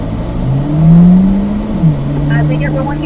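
A car engine pulls up through third gear on a race track in a track session, its rising drone loud and close, with the pitch sweeping upward and settling as the revs climb.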